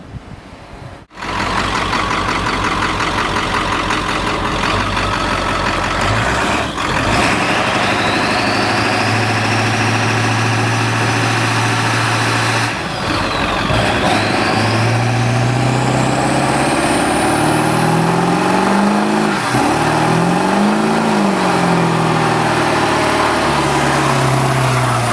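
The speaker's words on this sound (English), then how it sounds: "we're about to do the physics of a burnout" A car engine idles loudly and steadily, then revs up and down in several rising and falling surges as it builds toward a burnout, close and continuous with no talk.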